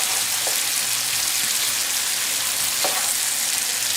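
Onions and garlic frying in butter, olive oil and margarine in a pan for chicken and shrimp Alfredo, a steady close sizzle with a couple of faint stirring scrapes and no talk.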